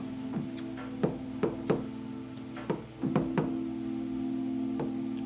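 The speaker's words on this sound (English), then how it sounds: "We had the knock knock." A run of sharp knocks, about eight spaced irregularly, each a distinct thud, heard over a steady hum with no talking.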